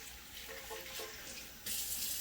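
Tap water runs steadily from a faucet into a sink, a close hissing splash that briefly shifts and then grows louder and brighter as the flow increases.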